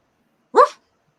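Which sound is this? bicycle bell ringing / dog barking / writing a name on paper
dog barking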